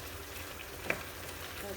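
Steady sizzle of chicken frying in a pan as spices are stirred in, a continuous hiss with a single faint scrape of stirring near the middle.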